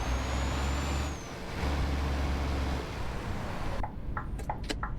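A heavy truck in Euro Truck Simulator 2 backs up slowly, its low engine drone steady and close, then fades into lighter clattering and short ticking sounds near the end.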